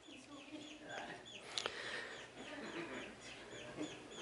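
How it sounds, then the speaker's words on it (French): A small bird calls in a quiet outdoor spot, giving short repeated chirps and whistled notes at a moderate distance, with a faint murmur of voices underneath. "Il y a un petit oiseau ici."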